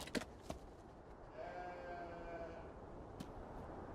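Sheep bleating in the video game Beyond Two Souls, a wavering cry held for about a second over a steady low background hum, with a few sharp clicks before and after.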